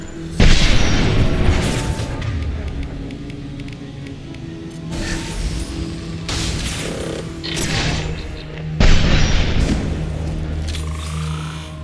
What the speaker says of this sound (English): go ahead and use that turret